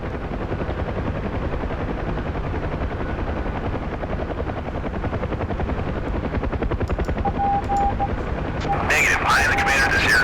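UH-1 helicopter in the DCS flight simulator, a dense rapid rotor chop throbbing loud and steady throughout, with a few sharp cockpit tones and bursts of activity near the end.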